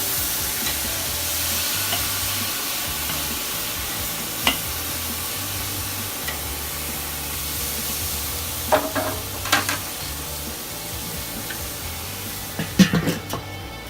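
Thin steak sizzles on a hot Weber Kettle charcoal grill, a steady crackling hiss throughout with a few sharp clicks and metallic taps from tongs near the end.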